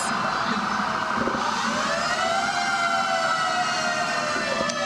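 A 1960s fire engine wails its siren at a Winnipeg Santa Claus parade, the steady rising and falling tone sounding loud and close over crowd murmur.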